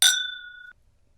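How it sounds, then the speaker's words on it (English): A single bright glass clink as bourbon glasses touch in a toast, ringing clearly and fading over about half a second before silence. "clink 'em and drink 'em"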